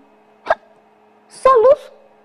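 A storyteller imitating a hiccup with her voice, a single sharp gulp followed by a short drawn-out vocal hiccup sound, close and loud in an otherwise quiet room.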